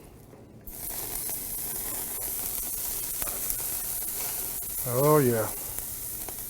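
Ribeye steaks sear in a hot pan, giving a steady broadband sizzle that begins abruptly after a quiet start and holds throughout, with a brief spoken exclamation near the end.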